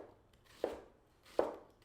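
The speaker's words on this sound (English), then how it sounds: "So now I'm going to slice along the ridges." A knife slicing onion thinly along its ridges on a cutting board, two crisp separate cuts with quiet pauses between them.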